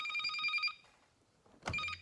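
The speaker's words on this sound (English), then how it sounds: "oh crap, my phone is ringing" A home landline telephone ringing, a bright electronic trill that stops, a pause, then the handset clatters as it is picked up, moderately near.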